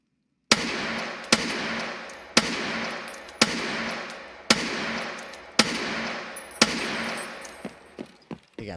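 Gunshots from a video game weapon ring out seven times at a steady rhythm of roughly one per second, each a loud sharp crack with a decaying tail, followed by a few quicker, fainter shots at the end.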